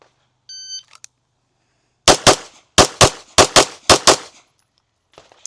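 A shooting drill opens with a shot timer's electronic beep, followed after a pause by eight rapid, loud, close pistol shots in quick pairs, with a faint click at the end.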